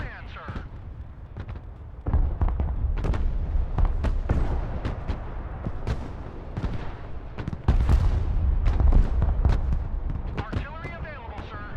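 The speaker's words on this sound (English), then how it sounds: "Rocket artillery at your command, sir." Rocket artillery firing in the video game Broken Arrow, a rapid series of loud sharp launches and booms bursting close together over about twelve seconds, with in-game voice lines heard over it.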